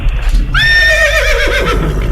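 A horse gives one loud, close whinny that rises sharply, then wavers and trails off over about a second and a half, set against a low background rumble.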